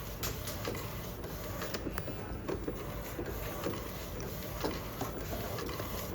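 A DTF roll-to-roll printer, an old L1805 unit, runs at a fairly quiet, steady hum with a high whine and repeated light clicking and shuttling strokes of the print head.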